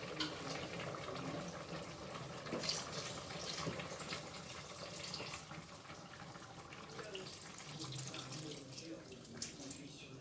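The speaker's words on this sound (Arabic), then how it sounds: "دونك دابا غنزيد عليهم الماء غير شويه ماشي بزاف" Water from a tap runs steadily into a cooking pot holding chicken, a continuous close splashing pour lasting throughout with no talk.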